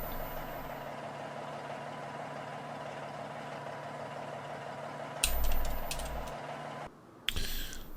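A truck idles in a video game with a steady low engine drone and faint hum for several seconds, then a louder burst of noise and a brief drop before the rumble returns.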